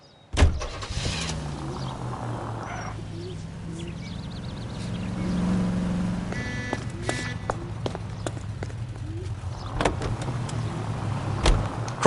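Car driven through city streets in the 1940s Los Angeles game L.A. Noire, a steady engine hum carrying through the whole stretch with scattered clicks and brief thumps, no talking.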